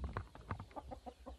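A rooster offered for sale at 42,000 CFA francs makes a series of short, rhythmic clucking calls, close and moderately loud, with no talk over them.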